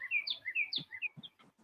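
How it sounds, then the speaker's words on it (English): Small birds chirping outside a home, a quick series of bright, high tweets and trills, fairly faint and slightly distant, with a few soft knocks mixed in and no talking. "Oh, I love the birds."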